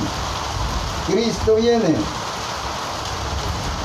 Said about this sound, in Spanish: está lloviendo